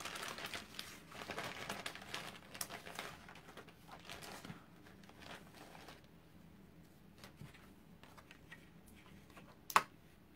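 Sheets of craft paper or cardstock rustle and crinkle as they are handled and slipped into place at a stamping workbench. The sound is close and busy at first, then settles into softer, sparser handling noises, with one sharp click near the end.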